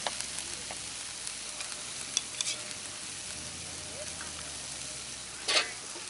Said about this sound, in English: I'm just going to add a little bit of oil in there just to get the mushrooms on the go as well